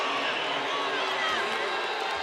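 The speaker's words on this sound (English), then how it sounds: "that's just made this crowd get even louder" Home crowd at an indoor professional volleyball match swelling into a loud, continuous roar of cheering and noise, dense and sustained throughout.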